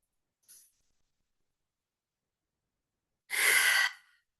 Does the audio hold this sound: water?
no